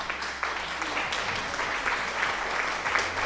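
Applause sound effect during a Minecraft Bedrock Edition stream, a sustained burst of clapping from a crowd lasting the whole moment, moderately loud and steady.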